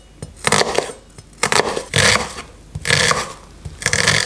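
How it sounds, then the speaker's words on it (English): A knife roughly chops red onion on a board, giving a series of about six or seven close, crisp chopping and scraping bursts in an uneven rhythm, with no voices. "Red onion, I'm gonna chop it quite roughly."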